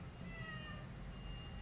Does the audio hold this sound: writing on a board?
no